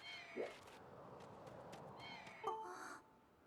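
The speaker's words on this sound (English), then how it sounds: "Link, I'm gonna tend to my bird and make sure he's not hurt." A Loftwing, a large bird in Zelda: Skyward Sword HD, gives two short, harsh caws about two seconds apart over faint game ambience and music.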